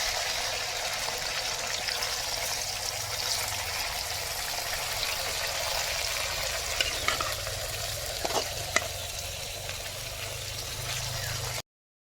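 Fish frying in a pan gives a dense, even hiss that holds close and steady throughout, with a couple of faint clicks near the end before it cuts off.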